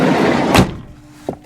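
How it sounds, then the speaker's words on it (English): A Buick Terraza minivan's sliding door thuds shut with a loud, close impact, and a second, softer clunk follows a moment later as it opens again. "the door shuts and opens"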